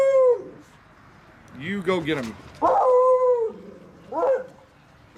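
A beagle howls in several long, wavering, drawn-out cries close by, with brief yips between them and a person speaking over them.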